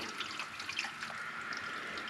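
Water runs steadily into an autoclave, a continuous close splashing rush with no pauses.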